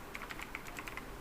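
Quick, light keystrokes on a computer keyboard patter in an even run of about a dozen taps, faint and close, with no voice over them.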